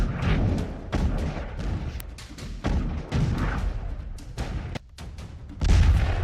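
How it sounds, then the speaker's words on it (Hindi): Large explosion at an Iranian weapons depot struck by a 2000-pound bomb, heard as a series of heavy booms and thuds over continuous low rumble, with a strong blast swelling near the end. "तेज रोशनी के साथ ये देखिए, बहुत बड़ा धमाका हुआ है।"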